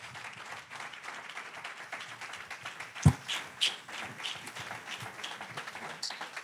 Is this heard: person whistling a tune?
no